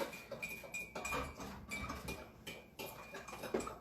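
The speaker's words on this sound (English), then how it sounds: "you have to sit there and stir and stir and stir" A spoon stirring brown sugar in a glass of Irish coffee, with quick, steady clinks and scrapes against the glass in a rapid rhythm, close and fairly soft.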